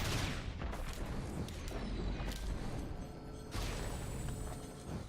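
Dense, continuous barrage of crackling game explosions from a fireworks item in Risk of Rain 2, sustained loud bursts throughout with a fresh surge midway, no talking.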